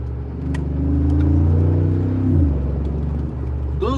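A 2017 Mercedes G 63 wagon engine hums and swells while driving around a corner, a loud low rumble that rises then eases, with a brief squeak near the end.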